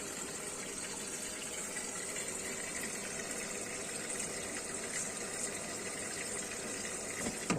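A Candy washing machine draws in water for a 70-degree white wash, a steady, loud rushing gush of inflowing water with a faint mechanical hum underneath, sustained without break.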